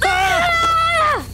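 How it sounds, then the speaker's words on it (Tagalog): A person screams suddenly, one loud sustained cry lasting about a second before dropping off, close and alone. "Bakit ka kasi biglang sumigaw?"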